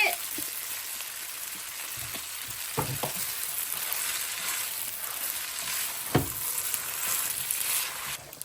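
Garlic and cooked spaghetti fry in olive oil in a pan, a steady crackling sizzle with occasional stirring clinks and scrapes, close and continuous without talk.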